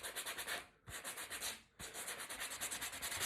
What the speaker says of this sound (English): So all I'm gonna do now is just give it a little light rub